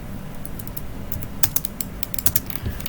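Keys clatter on a computer keyboard as an AutoCAD command is typed, light rapid taps clustering into quick bursts over a faint steady background hum.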